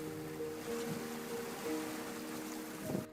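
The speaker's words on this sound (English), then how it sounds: "Dusty cranks up his engine and speeds the mama otter away to safety" Boat engine speeding away across open water carrying a rescued mother otter, a steady droning hum with tonal whine over rushing wind and waves, moderately loud and sustained throughout.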